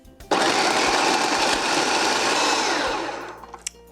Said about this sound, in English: We're going to go ahead and put them in our food processor or blender